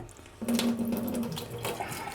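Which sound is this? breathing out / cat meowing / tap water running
tap water running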